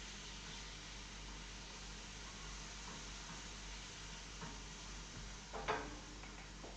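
Cheesesteak strips of slightly thicker-cut steak sizzling in a pan, a faint, steady, even hiss with a small clatter near the end.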